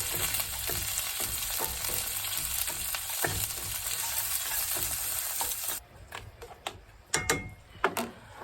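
Spam and potatoes O'Brien fry in a pan with a steady hiss, and utensil clicks and scrapes run through it. The sizzle then cuts off abruptly, leaving only a few louder clanks.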